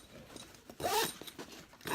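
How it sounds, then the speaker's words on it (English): A zipper closes along the bottom of a convertible bag that turns into a backpack, giving a short close rasping pull that swells near the end. "Let me zipper it up."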